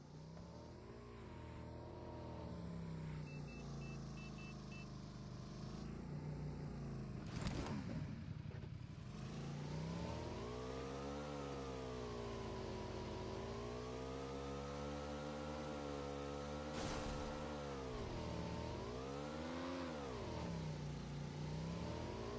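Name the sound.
car engine revving in racing video game Grid Autosport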